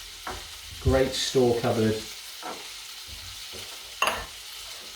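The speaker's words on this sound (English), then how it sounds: "We've got the onions, we've got the sausage sizzling." Sausage and onions sizzle softly in a pan for a pork and fennel ragu, a low steady fry under a person talking, with a brief utensil clink near the end.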